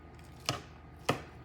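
Ground meat, destined for a bacon cheeseburger tater tot casserole, is broken up in a pan with a utensil, producing two sharp knocking scrapes spaced about half a second apart over a faint background hum.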